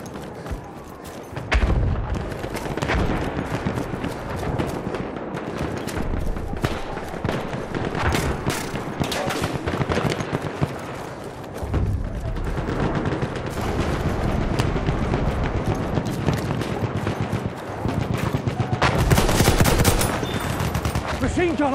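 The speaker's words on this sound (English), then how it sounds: "Machine gun over there!" Battlefield 1 combat with sustained machine gun bursts and scattered rifle shots, booming explosions and chaotic battlefield din filling the whole stretch, with faint shouted voices mixed in.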